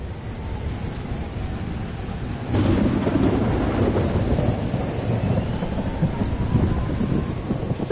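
Rolling thunder breaks into a loud, steady rumble partway through, with dense rain hissing alongside, in a storm scene from the video game Life Is Strange Double Exposure; no one speaks.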